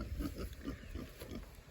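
Pigs on pasture giving a rhythmic run of soft low grunts, quiet and fairly close, with no talking.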